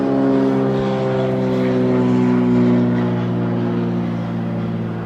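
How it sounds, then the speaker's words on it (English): A small vintage military propeller plane drones past at close range, its steady engine hum loud and sustained throughout before easing slightly at the end. "so a small vintage military plane just went by"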